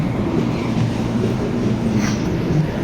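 Steady rumble inside a moving train car, a continuous low roar with faint rail clatter and a brief high squeal, and no speech over it.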